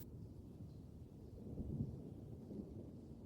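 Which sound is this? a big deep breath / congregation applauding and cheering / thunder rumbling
thunder rumbling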